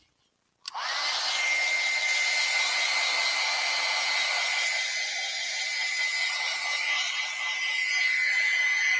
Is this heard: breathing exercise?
no